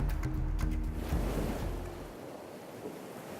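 Ocean waves at Puri beach in Odisha, India, a steady roar of surf with some wind rush, loud for the first two seconds and then easing to a softer wash.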